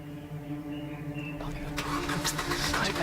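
A car engine cranks and catches partway through, moving from a low idle hum into a louder burst as it fires up and settles into a running rumble nearby.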